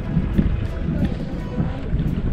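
Riding a Uro people's reed twin canoe on the water brings a close, gusty rush of wind and water noise with soft irregular splashes, and voices talk faintly underneath.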